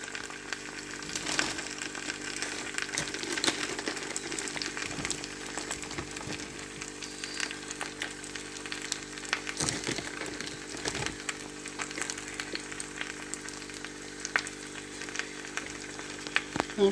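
Cheesy potato layered with cheese sizzles and fries steadily in a pan, a continuous crackling hiss with small pops running throughout, fairly quiet and without talk.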